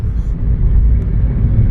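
A car on the road passes close by on a foggy route between Multan and Lahore, giving a loud, steady low rumble that fills the brief moment without any break.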